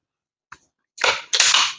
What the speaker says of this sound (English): First up, air rifle.